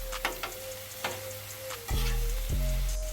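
A sazon-seasoned steak for a cheesesteak sears in a hot pan, crackling and sizzling with a few sharp pops, then surging louder as it is flipped partway through.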